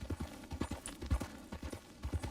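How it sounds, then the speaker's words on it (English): A horse in Red Dead Redemption 2 moves at a medium-slow gallop, its hooves thudding in a steady, quick, close rhythm, faint overall with no talking. "Just go with this medium slow gallop."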